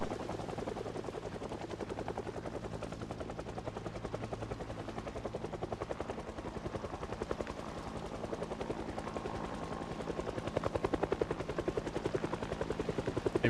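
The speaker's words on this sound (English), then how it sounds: "Instantly get a helicopter." A helicopter in the video game Project Zomboid, its rotor chopping in a steady, fast pulse at an even, fairly loud level throughout with no talk.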